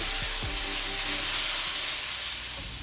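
Onion and carrot softening in a hot pan give a steady, even sizzle with a constant hiss, close and moderately loud, joined early on by a couple of soft knocks.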